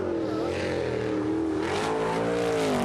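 Kendrick's race car engine revving loud and steady around the Serpentine natural road course at a retro motorsport event, a continuous high whining drone that rises in pitch as it accelerates.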